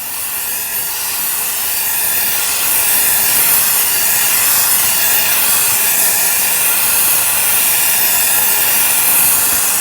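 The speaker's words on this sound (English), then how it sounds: "We're using a Smith's little torch with a little multi-burner on it as well" A Smith's little torch fitted with a multi-burner hisses loudly and continuously in a steady, broadband rush while heating silver on a soldering board, building slightly at the start and then holding even.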